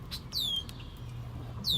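Birds chirp at a carp fishing spot: two or three sharp, high descending tweets against a low outdoor rumble, nearby and fairly quiet, with no talking.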